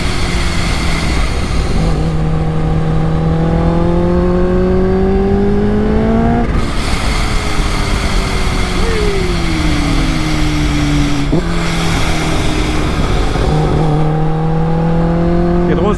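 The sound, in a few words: Kawasaki H2 280 hp motorcycle engine revving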